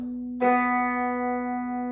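The open B string of a guitar plucked once and ringing clean and sustained, close and fairly quiet, after a moment of a faint lingering tone.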